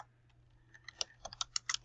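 Quiet, close typing on a computer keyboard, a short burst of irregular key clicks that quickens toward the end.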